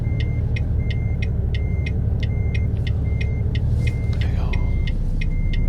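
A truck engine rumbles steadily at low speed while maneuvering a trailer, with a repeating high electronic beep ticking over the constant drone.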